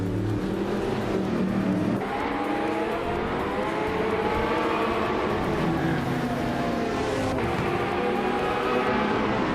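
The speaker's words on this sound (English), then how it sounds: "the hypercars are already zooming" Hypercars roaring around a track in a racing video game, with a 2016 Ferrari 488 Challenge in the field; steady, loud engine drone with shifting revs and a brief swell near the end, no talk.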